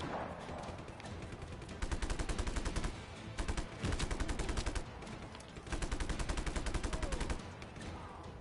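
Sustained bursts of automatic machine gun fire strafing enemies in Just Cause 3, loud rapid rattling volleys in several long runs separated by short pauses, with ambient game noise between.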